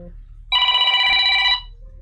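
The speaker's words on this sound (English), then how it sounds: "Oh, we got a phone call." An incoming phone call rings as a single bright electronic trill lasting about a second, loud and close, with a low murmur of room noise before and after.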